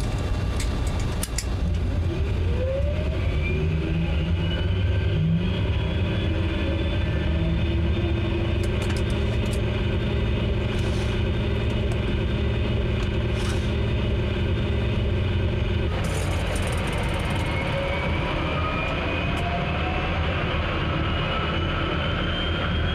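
Engine 1 of an airliner in Microsoft Flight Simulator 2020 runs as a steady loud rumble with a rising turbine whine that climbs in pitch, then the tone shifts partway through while the drone continues.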